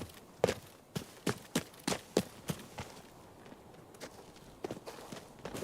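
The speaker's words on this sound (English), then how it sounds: "But I do hear footsteps on my left" Footsteps in the shooter game Arena Breakout: Infinite thud in a steady walking rhythm, fairly close and distinct, pausing briefly before a few more steps resume near the end.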